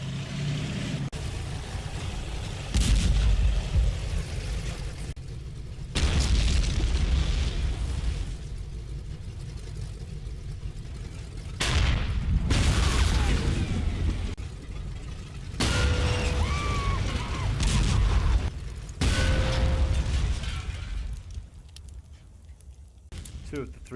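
Tank combat from the wargame Combat Mission Final Blitzkrieg, with Shermans facing Jagdpanzers and StuGs: several loud explosion bursts and crashes at irregular intervals, separated by quieter mechanical rumble, with narration spoken over parts of it.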